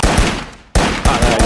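Gunfire in the VR shooter Virtual Warfighter, a loud rapid burst of automatic shots, a short gap, then a second burst, all close.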